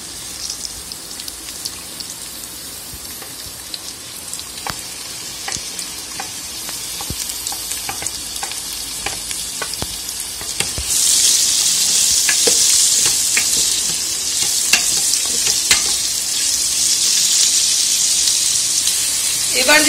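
Carrots and beans fry in a pan with a steady sizzle and crackle, punctuated by scraping stirs, and the frying swells louder and hissier partway through.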